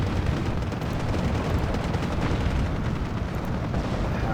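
Dense, continuous booming and rumbling from howitzer artillery fire in the WWII strategy game Steel Division 2, a loud unbroken barrage of low blasts with no talking over it.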